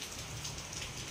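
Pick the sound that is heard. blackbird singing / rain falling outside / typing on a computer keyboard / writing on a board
rain falling outside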